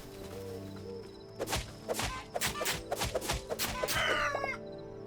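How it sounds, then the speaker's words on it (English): Chicken clucking from the Hytale video game, a quick run of sharp, close clucks and squawks rising to a brief crow-like call over a steady game soundscape hum. "It's a chicken!"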